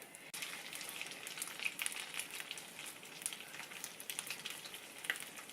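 A small piece of tuna and potato patty mixture crackles and spits in hot frying oil, a busy sizzle of fine pops that starts abruptly and carries on steadily at close range with no voices.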